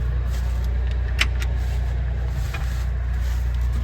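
A skid steer idles steadily near a big pile of corn on a farm, its low engine drone continuous and close, with a couple of brief clicks and knocks on top.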